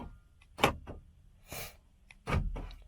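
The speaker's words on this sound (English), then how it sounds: "now I'm locking and unlocking from the key fob" Door locks on a 2000 Ford Excursion clunking as they are locked and unlocked with a key fob; three or four sharp mechanical actuator thunks spaced apart in a quiet setting.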